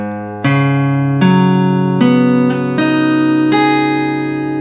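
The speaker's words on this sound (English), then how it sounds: "you need a capo on 4th fret, so your strings should sound like this" Open strings of an acoustic guitar with a capo on the 4th fret, tuned for a song. About six strums or plucks ring out close and clear, each note sustaining into the next, with no voices.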